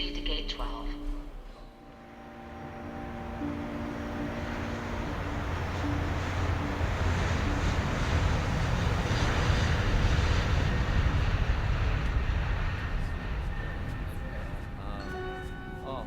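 Airplane cabin ambience in a vintage radio drama: a low, rumbling aircraft engine drone swells in after a brief lull and holds as a steady, muffled roar.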